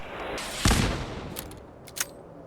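Reaper of Pantheon weapon firing in Fallout 4, a heavy blast followed by a short rattle and a sharp second shot, near and punchy.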